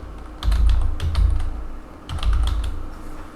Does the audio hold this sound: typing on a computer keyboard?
yes